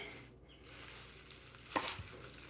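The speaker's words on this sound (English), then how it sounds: "And a chop and a chop." A knife chops through a bunch of kale on a cutting board in a home kitchen: one crisp, fairly close cut rising out of quiet room tone, with no voices.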